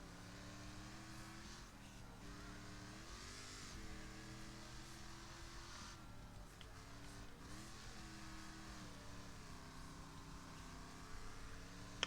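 A C-class car in the racing game Wreckfest drives steadily, its engine droning loud and continuous with rising and falling pitch through gear changes and corners, with no talk over it.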